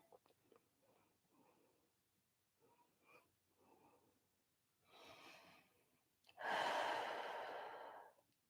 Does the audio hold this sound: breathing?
yes